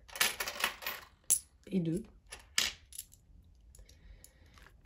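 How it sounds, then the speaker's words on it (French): Coins clink and drop onto a surface in a few separate bursts while euro coins are counted out for an envelope budget, with sharp metallic jingles up close and a brief spoken phrase among them. "J'aime pas trop toucher les pièces de monnaie"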